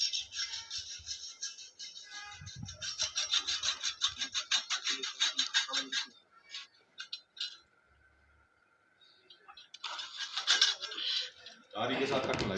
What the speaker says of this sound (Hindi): आरी के साथ मूर्ति को कटन लाग रहे हैं।